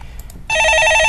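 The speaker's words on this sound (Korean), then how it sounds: "예, 전화 받아보겠습니다" A telephone rings loudly after a brief quiet moment, its electronic warbling bell tone repeating rapidly and filling the rest of the short moment, close and clear.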